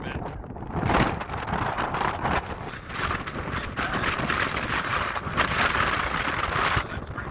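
High wind buffets during a dust storm in Quartzsite, a loud continuous broadband roar with gusting surges and rumble, close to the microphone, with no voice over it.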